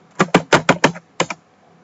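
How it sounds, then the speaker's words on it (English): Computer keyboard keys clacking in a quick burst of about six close strokes, a short pause, then two more taps, with no voices. "For now I'm just typing without even knowing what I'm typing."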